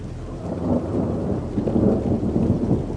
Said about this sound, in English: Wow, the thunder.